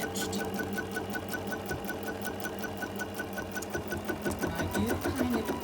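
A sewing machine stitches around a fabric mug rug several times, following a previously stitched line, with a steady, continuous run of rapid needle strokes close by and no talking.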